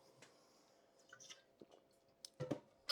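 Someone taking sips of water close up, quiet wet mouth sounds and swallows, then a few louder gulps near the end, with no talking.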